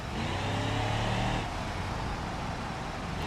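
A car engine in the racing game RLS over-revs with a loud, steady, buzzing roar that holds high for about a second and a half, then drops to a rougher, lower drone.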